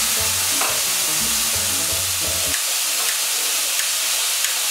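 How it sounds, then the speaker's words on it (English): Steady loud sizzling and hissing from a hot steak pan as liquor is poured in to deglaze it and flambé, with stirring and scraping throughout and a few soft clicks near the end. "we're going to use this to deglaze the pan, and it may ignite"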